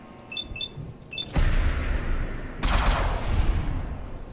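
Automatic gunfire in Fallout 4 with the Sim Settlements 2 mod, loud sustained bursts of shots: one long volley starting early and a second heavy burst later, with brief chirpy game effects before them.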